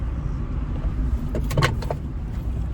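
A car being driven hums with a low, constant road rumble, and a few short clicks and rattles come from inside the cabin.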